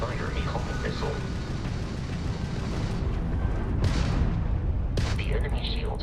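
Missile launch and weapons fire during a starship dogfight in Starfield, a dense, sustained roar of booms and blasts with sharp bursts near the end, under game dialogue.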